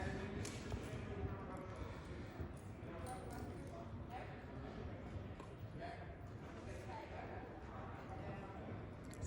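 A horse trotting for a Welsh-show style presentation, steady rhythmic hoofbeats at moderate distance under ongoing talk.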